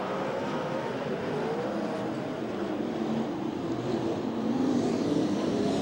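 Ford Focus midget race cars at speed on the Ventura, California track after the green flag, a dense continuous engine roar from a pack of cars, steady and fairly loud with rising intensity near the end.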